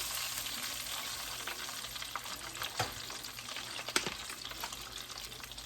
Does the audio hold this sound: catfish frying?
yes